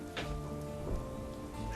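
Steady rain falling on wet streets, an even hiss of drops spattering on hard ground that holds at a constant level for the short stretch, with no voices over it.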